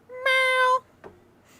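A person's voice imitates a cat meow: one loud, drawn-out meow with a strong harmonic tone lasting about half a second, followed by a brief faint vocal sound and near silence.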